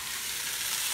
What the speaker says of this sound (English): give them a stir and let them cook up for just a couple of minutes until the vegetables are softened